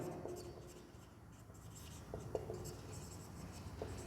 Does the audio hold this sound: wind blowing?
no